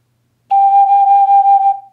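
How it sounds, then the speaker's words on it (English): A single sustained G note played on an ocarina in the key of C rings out clear and steady for over a second, then fades as the breath tapers off. "Now I'm going to play the exact same note, but on a different ocarina."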